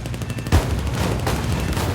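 Machine guns of a P-40E-1 fighter firing in sustained bursts at an enemy plane in War Thunder, a dense rattling stream of gunfire that jumps louder at about half a second and keeps pounding steadily to the end.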